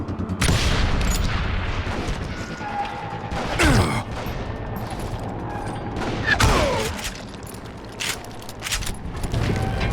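Gunfire rings out in a Wild West shootout in the video game Call of Juarez Gunslinger, with several loud booming shots near 4 and 6.5 seconds over a dense, rumbling battle bed.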